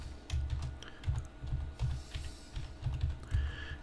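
Fast, uneven keystrokes clatter on a computer keyboard as a new password is entered, a close and steady run of clicks with short pauses and no voice over them.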